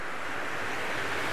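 Surf breaks along the clean East Sea coast at Pohang, a steady broadband wash of waves with some wind rush, loud and continuous, with no speech.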